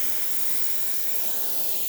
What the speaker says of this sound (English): Nice steam coming out of the machine.